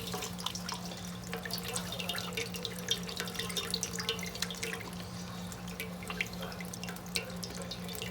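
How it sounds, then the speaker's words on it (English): Excess whey drips and trickles steadily from squeezed fresh mozzarella curds into a bowl, a wet patter over a low constant hum with no talking. "I'm just going to give it a squeeze, and squeeze out that excess whey."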